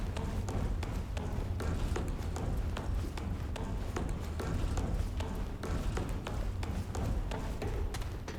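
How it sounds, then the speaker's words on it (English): Footsteps in the video game Remnant: From the Ashes, a steady run of quick, close thudding steps repeating evenly over a constant low ambient bed. "Well, I like my footsteps."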